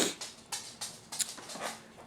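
Buddy the pet dog whimpers in a few soft, short whines and breathy puffs, close by and quiet, with no talking.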